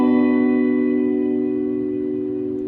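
A guitar chord played with a barre shape on the 7th fret rings out once and sustains, fading gradually over nearly three seconds, with an effect-laden, slightly reverberant tone and no talking.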